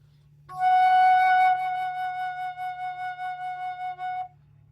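A single sustained flute note, F sharp, held for a few seconds, clear and close, with a gentle pulsing vibrato toward the end over a faint low hum.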